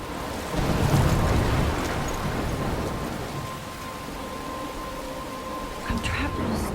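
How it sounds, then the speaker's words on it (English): Storm in the video game Life is Strange: steady heavy rain hissing on surfaces with a low rumble of thunder, a continuous moderately loud wash that swells slightly near the end. "I'm trapped in a storm?"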